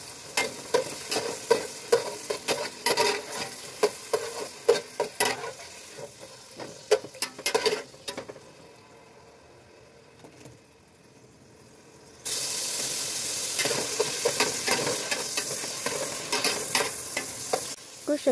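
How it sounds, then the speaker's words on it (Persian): Chopped onions and meat fry in hot oil in a pan, crackling and sizzling with sharp bursts of stirring, a quieter stretch, then a loud, steady sizzle that fills the rest. "شما پیاز رو خرد کنید و قشنگ تو روغن داغ تفت بدید و کمی که سبک شد گوشت رو اضافه کنید"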